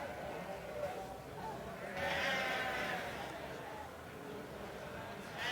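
Sheep bleating in a show ring at the Royal Highland Show, with a sustained bleat rising above the busy crowd and pen noise while a commentator talks over it.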